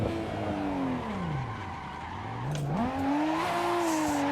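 A Nissan Skyline nicknamed the 'Beercan' drifts in a sim racing game, its engine note sweeping down and back up as the tires squeal in a long continuous slide, loud and close with no talking.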